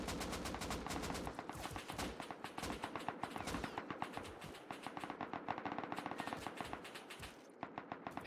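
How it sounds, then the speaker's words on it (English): Rapid automatic gunfire in the survival game Rust during a 7v7 base-invasion tournament, dense bursts of cracking shots rattling continuously for several seconds, fairly distant and layered, with brief gaps between volleys. "Heavy firing up the hill."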